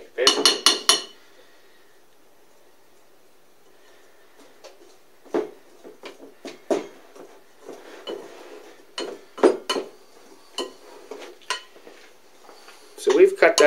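A utensil scrapes and clinks against a bowl in irregular bursts while butter is cut into flour for homemade biscuits, with quiet pauses between strokes.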